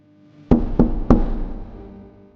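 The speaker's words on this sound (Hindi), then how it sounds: "आज की इस दोपहर उसके दरवाजे पर एक दस्तक होती है।" Three sharp, loud knocks on a door in quick succession, each with a short ringing decay.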